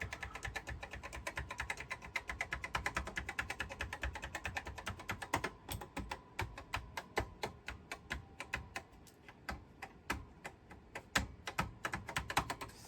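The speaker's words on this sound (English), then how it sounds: "I'm just gonna hit all the keys here and see if any of them turn it on." Keys on an Apple IIe keyboard are pressed one after another, a long run of close, crisp clicks, rapid at first, then spaced out into separate taps.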